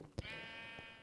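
A single short sheep bleat from a Minecraft farm, with a brief burst and then a sustained tonal hum running steadily underneath at moderate loudness.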